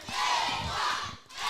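A roaring crowd at a Texoma Pro Wrestling anniversary show, a loud continuous wall of shouting and cheering that swells, dips briefly, then surges again.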